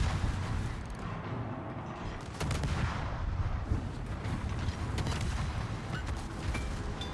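Naval gunfire rumbles through a warship video game, with dense overlapping booms and crackling salvos forming a steady, loud barrage across several seconds and sharper shots punching through near the middle.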